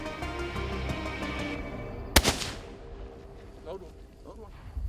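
A single loud, sharp hunting rifle shot cracks out at a deer outdoors, leaving a rolling echo that fades over the following seconds, while a person speaks quietly before and after.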